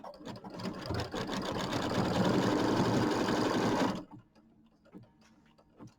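A sewing machine runs steadily while stitching quilt block pieces, a loud rapid mechanical whir for about four seconds that then cuts off, leaving a few soft clicks and handling taps.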